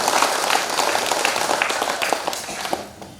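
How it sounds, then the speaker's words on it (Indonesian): A congregation gives sustained applause for an elderly priest at a Divine Mercy prayer group Eucharist, a dense, steady clapping that fades slightly toward the end. "Mari kita aplaus buat Bapak Romo"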